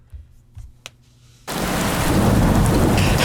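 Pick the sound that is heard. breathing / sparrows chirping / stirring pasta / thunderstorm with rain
thunderstorm with rain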